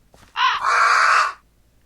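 A single crow-like bird caws loudly in a Lord of the Rings video game, one harsh drawn-out call heard alone and up close.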